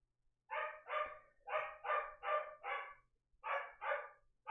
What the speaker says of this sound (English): there goes my dog